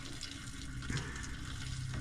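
Liquid pours steadily from a jug into a container, a continuous close splashing gush that holds through the moment without talk.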